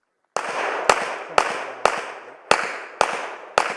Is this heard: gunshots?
yes